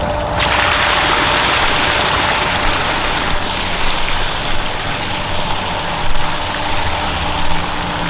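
Two pond pumps running with water in a large backyard pond, a loud steady mechanical hum under continuous rushing, splashing water, with small surges but no pauses.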